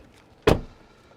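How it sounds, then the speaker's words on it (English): A Tesla car door shuts with a single solid thud, close and loud, its brief impact fading quickly into a quiet background. "Let's shut the door"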